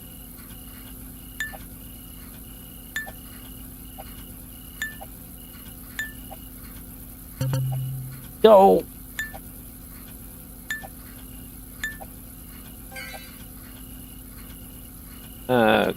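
Glass items clink in the video game Recycling Center Simulator: light, evenly spaced taps about every second and a half over a steady machine hum, with a brief spoken word and a few louder thumps.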